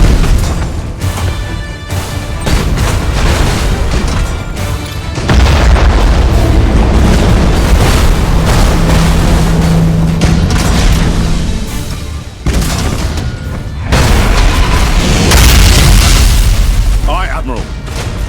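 Imperial warship main batteries firing in the space game Battlefleet Gothic Armada 2: heavy booming salvos in several long rolling bursts, loud and close, with voices speaking over parts of the barrage.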